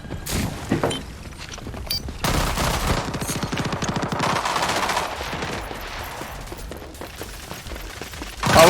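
Rapid, shredding automatic gunfire from a weapon in the shooter game Rogue Company, dense and loud, running for several seconds with short breaks and a final heavier burst.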